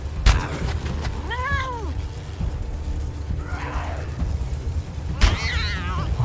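A cat in the video game Wasteland 3 lets out two clear, drawn-out meows several seconds apart, loud and close, amid sharp combat sounds and impacts from the fight.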